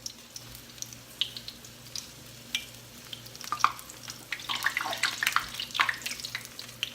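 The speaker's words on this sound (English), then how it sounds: "you're just going to slide it into the oil carefully so you don't burn yourself" Apple fritters slid into hot oil, a soft bubbling fry with scattered crackles and pops that grow busier and louder toward the end, no talking.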